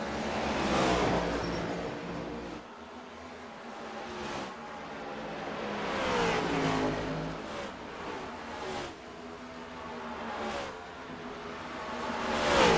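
Race cars roar past at Bristol Motor Speedway in a simulated racing series, engines rising and falling in repeated revving sweeps as the pack laps the track, loud and continuous without speech.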